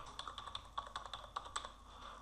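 A WebLogic username and password are typed on a computer keyboard: quick, irregular keystrokes, close and quiet, with no talk.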